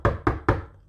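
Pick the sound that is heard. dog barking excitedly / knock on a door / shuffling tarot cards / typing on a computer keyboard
knock on a door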